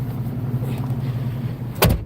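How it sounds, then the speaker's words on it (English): A truck rolling along a road in Petrified Forest National Park, a steady low engine and road rumble heard from inside the cab, ending with a brief louder clunk. "So we're gonna hop in the truck now and head up the next spot."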